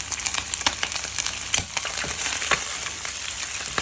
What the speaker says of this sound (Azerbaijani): Kərə yağı əlavə edib qovururam bunu.